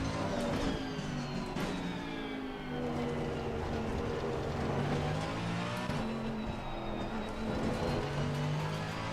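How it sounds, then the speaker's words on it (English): A Mercedes AMG GT3 race car's engine in a racing game, a loud sustained drone with revs rising and falling as the throttle is lifted and reapplied through a turn. "When the car is stable, okay, I'm releasing the throttle and going on the throttle again."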